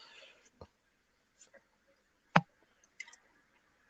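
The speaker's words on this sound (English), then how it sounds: "I'm just typing that in" Scattered keyboard key clicks, sparse and faint, with one sharper tap standing out while a web link is typed, set against near silence.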